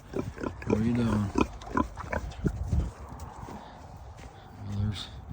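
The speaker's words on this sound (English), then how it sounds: "this is where the pigs out here roam and hang out" Pigs roam a homestead farm, giving short grunts and squeals at close range, with hoof clatter and a voice speaking in between.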